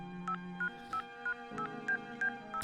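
Electronic tones of a video game phone call, a steady sequence of short beeping pips over a humming background, moderately quiet.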